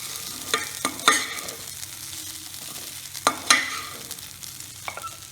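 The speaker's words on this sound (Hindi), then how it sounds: "इस तरह से आप हल्के हाथों से पोहा को चलाएं।" Poha with spices is stirred in a pan with a spoon, making sharp scraping strokes in uneven bursts over a soft sizzle. No one speaks.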